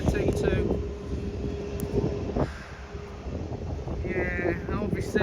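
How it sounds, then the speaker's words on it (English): A Qatar Airways plane departing Manchester Airport toward Doha gives a broad, steady jet roar under wind buffeting on the microphone. "there's the sound of the Qatar plane that's going out towards Doha"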